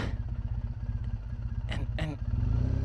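Motorcycle engine idling close by with a steady low throb while the bike is slowly turned at a state park, rising slightly louder near the end; brief clattering bursts cut in midway.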